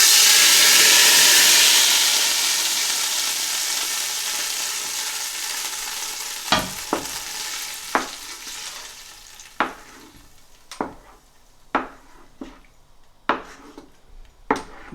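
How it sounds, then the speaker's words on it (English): Hot oil tadka poured into a pot of haleem, a loud initial burst of sizzling and hissing that fades gradually, followed by a series of sharp clinks and scrapes of a spoon stirring against the pot. "I've heated up little oil to give this tadka, and this oil is going in now"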